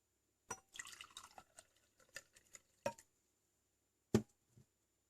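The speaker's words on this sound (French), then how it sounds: "je vais maintenant verser de l'eau chaude dans une tasse." Hot water from a kettle goes into a cup on a test bench, heard as scattered splashes and dribbles followed by a couple of sharp clinks against the cup, quiet and close with no voices.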